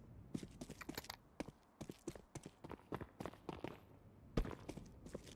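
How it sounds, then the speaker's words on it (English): Footsteps of a player in a Counter-Strike match during a one-versus-two clutch round, with repeated irregular steps and scuffs, moderately close and fairly quiet. "Must have heard the footsteps here"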